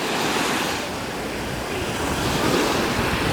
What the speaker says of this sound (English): It's the crash of the waves against the shore.